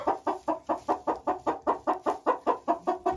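Laying hens clucking steadily in a coop, a rapid rhythmic series of about fourteen close, even clucks with no talk.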